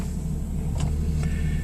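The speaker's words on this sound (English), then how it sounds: "Okay, I started the car." A Lexus SC300 engine idles just after starting, giving a steady low rumble with a couple of faint clicks over it.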